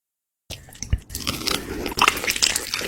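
A close-up crunchy bite into barbecue chicken, a sharp crisp snap followed by wet, crackling chewing that continues steadily, with no talking.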